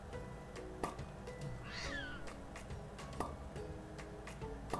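A cartoon cat in a stop-motion animation gives a short, rising meow that is clearly heard over a busy soundtrack of ticking and clicking effects, all fairly quiet.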